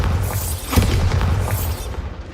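In Hogwarts Legacy, a Bombarda explosion spell goes off with a sudden close boom near the middle of the fight, surrounded by rumbling low game sound.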